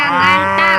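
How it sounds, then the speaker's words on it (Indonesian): A toy cow gives one sustained, bright, nasal moo at close range, loud and alone, with a brief spoken word over it. "Wih, yang ini ada sapi, sapi mo."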